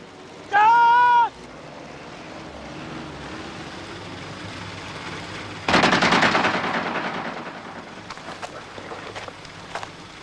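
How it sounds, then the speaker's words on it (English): Gunfire in a desert war film: after an opening tone, a sudden loud burst of shots erupts, followed by scattered fainter cracks over a steady windy, surf-like background. "Maybe warning shots, sir."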